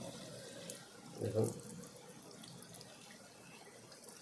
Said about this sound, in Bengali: কলটা চালিয়ে নিই